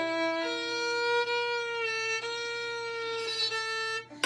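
A violin slurs across strings while a finger accidentally touches the A string, giving a thin, scratchy, high-pitched tone that wavers over a few seconds at a modest level, alone.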